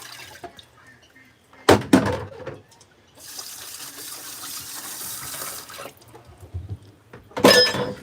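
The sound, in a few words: water rinsing scoops into a bucket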